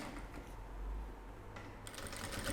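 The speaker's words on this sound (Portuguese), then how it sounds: "Lembra sempre que a máquina, ela costura reto." Sewing machine stitching plastic along a curved edge while making a small Easter bunny pouch, a steady close mechanical whir running throughout with a brief change in pitch near the end.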